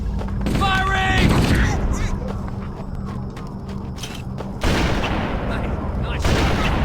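Bursts of weapon fire in a Halo game battle, a rapid fusillade of sharp shots and crackling reports that come in clusters at fairly high volume, with shouted voices mixed in.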